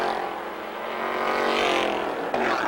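A Brazilian Stock Car race car from 2005 approaches on the track, its engine a loud rising drone that swells as it nears, with a brief knock near the end and no talk.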